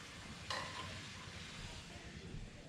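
Skirt steak sizzles softly in a hot pan after being flipped, a faint steady frying hiss with a brief clatter at the start.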